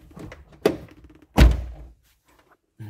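A car door is shut twice, first with a lighter thunk and then with a heavier, solid slam, close by and separated by quiet moments, with a faint voice in the background.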